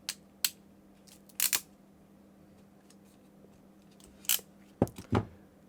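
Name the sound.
ratchet mechanism of crimping tool squeezing jaws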